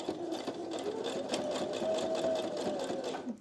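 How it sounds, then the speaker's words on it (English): A sewing machine runs steadily, stitching down fabric on a homemade scrunchie, its needle pattering in a fast, even rhythm close up for a few seconds without pause. "And we're going to start stitching down, removing the clips as we go."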